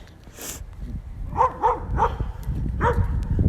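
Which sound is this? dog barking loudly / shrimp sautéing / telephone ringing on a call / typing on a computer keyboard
dog barking loudly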